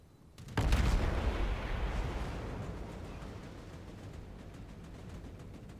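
A Tier 10 cruiser, the Hindenburg, fires a salvo in World of Warships: one heavy, close boom that rolls into a long, slowly fading rumble, with no talking.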